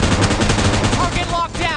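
Gunfire in PUBG Mobile, rapid automatic bursts rattling loudly and continuously, with a voice talking briefly over the shots near the end.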